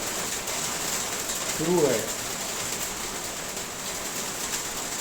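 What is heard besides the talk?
heavy rain falling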